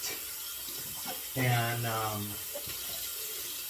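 Hot tap water runs steadily into a sink while a brush is rinsed, a continuous splashing flow with a brief swell as the stream changes, and a short spoken word over it.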